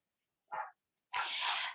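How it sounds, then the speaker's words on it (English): A dog barks twice while playing with a child indoors: a short yelp, a pause, then a longer, harsh, drawn-out bark, both fairly close and loud with no talk over them. "my dog is playing with my son, so you really hear him barking"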